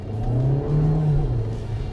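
A VW Taos with a small turbocharged engine accelerates, its steady low engine drone rising slightly in pitch and holding loud and close from start to finish, with no talk over it.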